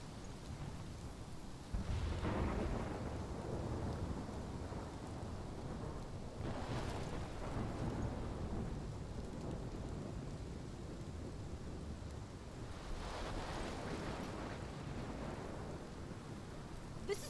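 Thunderstorm with steady rain in the video game Life is Strange: continuous hiss of rainfall with two or three deep rumbling thunder rolls swelling and fading, no voices.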